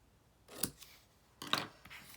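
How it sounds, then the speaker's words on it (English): Two crisp snips of scissors cutting cardstock for a handmade Valentine card, close and clear, spaced about a second apart in a quiet room. "a quick snip"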